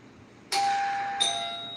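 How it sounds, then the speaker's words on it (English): A doorbell in a home rings with two bright chimes, the first tone ringing out and then a second, higher chime layered on top, both sustaining and fading, close and clear with no talking. "The bell just rang."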